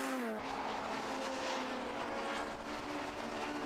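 Racing engine of a Class B Honda race car lapping the 1.2-mile Brands Hatch Indy circuit, a sustained loud near roar with a rising whine at the start, steady throughout.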